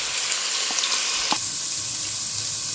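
Chicken frying in oil with ginger garlic paste in a pan, a steady close sizzle with a couple of sharp clinks from the pan, no voices.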